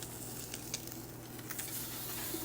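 Salmon pan-searing in butter gives a steady, close crackling sizzle with scattered pops, continuous throughout and without any talk.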